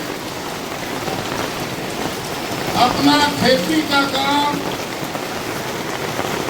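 Heavy rain pours steadily at an outdoor rally in Bagicha, a continuous loud hiss, while someone speaks briefly over a loudspeaker midway.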